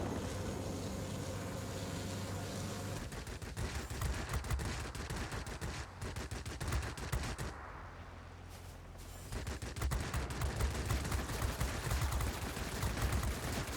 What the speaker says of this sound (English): Is that his tail gunner shooting at me?